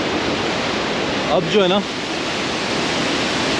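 Fast, high-speed mountain water rushes loudly and continuously along a dangerous road in Kishtwar, a dense, steady roar close by, with a brief spoken voice over it.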